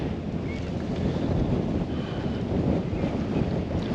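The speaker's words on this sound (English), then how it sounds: "can you hear the wind?" Strong wind blows across open water on the Norfolk Broads, a loud, continuous roar buffeting the microphone with a low rumble and no pauses.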